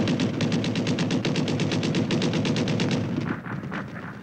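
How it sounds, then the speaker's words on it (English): World War I machine gun fire in battle, a long rapid burst of evenly spaced loud shots with rumbling low echo, slowing into scattered shots at the end. "the machine guns opened up on us"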